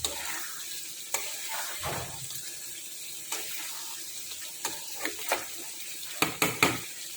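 Ghee sizzling in a pan as a cooked dish with spices is stirred, a steady soft hiss broken by scattered scrapes and clinks of the spoon, close and quiet, with no talking.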